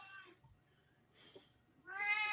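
A stray cat meows twice indoors, a short cry near the start and a longer, louder drawn-out meow at the end, with a quiet gap between.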